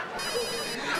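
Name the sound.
telephone ringtone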